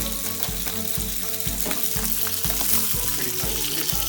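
Fish sears in a pan for acqua pazza, with a loud, close, continuous sizzle and crackle broken by regular rhythmic stirring or scraping knocks, and no talk.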